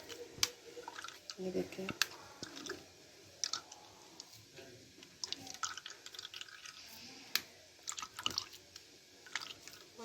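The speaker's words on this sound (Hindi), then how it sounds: "ये ऐसे दबा दबा के आपने इसका जूस निकालना है" Carrots being pressed by hand to squeeze out juice for a carrot and orange drink, giving soft wet squishes, clicks and drips close up while someone talks over them.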